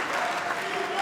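A crowd roars throughout a professional MMA fight at an OKTAGON event, a dense, steady wash of cheering and applause that stays loud for the full second.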